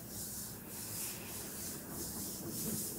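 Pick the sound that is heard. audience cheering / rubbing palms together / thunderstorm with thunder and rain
rubbing palms together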